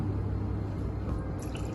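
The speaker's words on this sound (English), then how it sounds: "you can open your water jet or water pitchers and pour the water slowly" Water poured slowly from a pitcher into a restaurant water goblet, a low steady trickle with soft dripping that holds level throughout the short stretch, with no voices.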